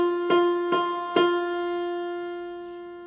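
A keyboard sounds an F note three times in quick succession, each clear, sustained tone struck fresh before the previous one fades, then the last ringing out and slowly decaying alone.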